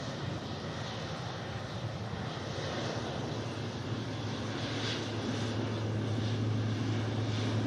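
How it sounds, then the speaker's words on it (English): A departing Etihad Boeing 777 bound for Abu Dhabi at Manchester Airport gives off a steady, broad engine roar, held at a distance and swelling slightly toward the end, with no talk over it. "Etihad Boeing 777 heading off to Abu Dhabi."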